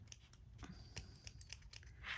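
Scissors snip crochet yarn in a run of faint, quick clicks and short cuts, spaced irregularly and heard close but quiet, with no talk.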